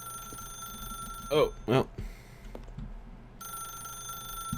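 A telephone ringing in the video game The Stanley Parable, a steady electronic ring that stops partway through and then resumes, with a short spoken remark over it.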